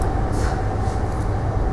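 Riding a Paris RER commuter train: a loud, steady low rumble of the carriage in motion with constant rolling rail noise and a faint airy hiss, heard close from inside with no talk.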